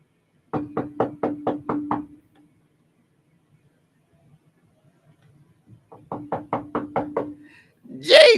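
Two bursts of about seven quick, even knocks rap on a door, separated by a few seconds of near silence, loud and close, with a voice starting right at the end.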